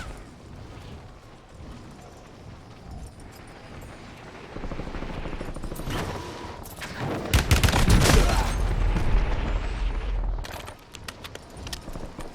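Gunfire in the Warzone game builds from scattered shots into a loud, dense burst of rapid fire with heavy blasts, then tapers into sharp, spaced cracks near the end.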